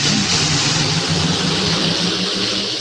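A Dodge race car driven by Stan Shaw roars away at speed, its loud engine note steady and full throughout, with no voices over it.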